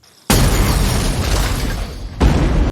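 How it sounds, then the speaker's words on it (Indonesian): A grenade detonates inside a drug dealers' van in a film, producing a loud, sustained explosive roar lasting about two seconds, followed by a second burst of blast and debris. "tentu ledakan yang dahsyat barusan tadi mengundang rasa waspada para anak buah Coyote yang ada di markas"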